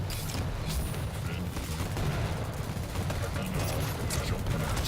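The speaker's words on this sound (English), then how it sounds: "3 frags with a nail gun" Nail gun fire in Quake Champions during a 4on4 Sacrifice qualifier match: a dense, continuous barrage of rapid shots layered with other game effects, loud and steady for the whole stretch.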